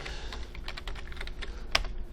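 Typing on a computer keyboard, a rapid run of close, crisp key clicks ending with one louder, distinct press of the enter key.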